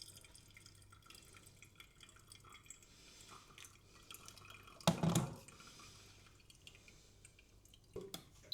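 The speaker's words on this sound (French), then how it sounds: "je vais verser un petit peu d'eau pour bien positionner le filtre, mais également pour réchauffer le V60" Hot water poured into a V60 coffee filter to seat the paper and warm the dripper comes as faint trickles and drips, then one short louder splashing pour near the middle and a brief one near the end.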